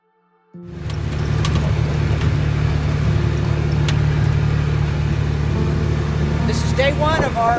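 Car engine on an axis deer hunting scouting drive, a steady loud low rumble starting abruptly and droning continuously with road noise, a faint voice briefly over it near the end.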